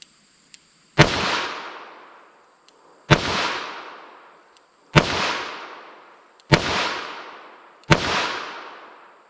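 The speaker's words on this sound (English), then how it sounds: "let's see what we get with these 44 Special wad cutters here" A Smith & Wesson Model 69 .44 Magnum revolver firing .44 Special wadcutters at a 7-yard range, five sharp loud shots spaced about two seconds apart, each with a ringing decaying tail and faint clicks between.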